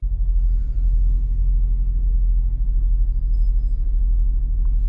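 Vehicles idling in a stationary queue at the Polish border, a heavy continuous low engine rumble close by, steady with no clear breaks.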